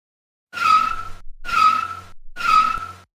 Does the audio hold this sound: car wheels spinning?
yes